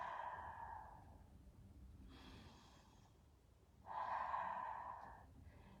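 Deep deliberate breaths during a stretching exercise with a blue ball, two slow airy exhales a couple of seconds apart, soft and close, with quiet pauses between.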